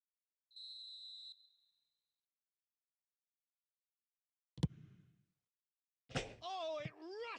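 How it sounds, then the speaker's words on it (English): A referee's whistle in an eFootball video game signals half-time with one short, shrill blast, then a silence, a sharp thud, and a voice starting to talk. "And the whistle goes for half-time"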